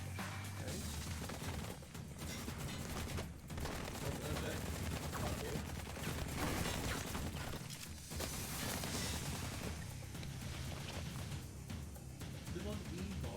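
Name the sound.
gunfire from the video game Blue Estate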